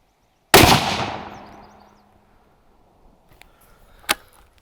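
A single loud, close rifle shot from a Ruger American Ranch chambered in 5.56 NATO, fired outdoors, cracks sharply and then fades. A smaller click and a brief sharp pop follow a few seconds later.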